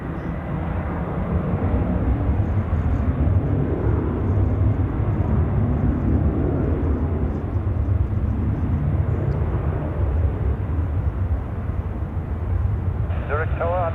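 An Air Canada airliner at Zurich Airport makes a low, continuous jet rumble that holds steady through the whole stretch, and near the end a voice begins speaking over it.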